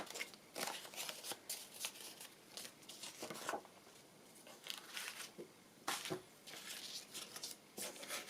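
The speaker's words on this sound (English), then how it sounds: "I'll tear that off." Paper being torn off in short ripping bursts while crafting a pocket envelope, several quick tears and crinkles close by with small pauses between, no talking.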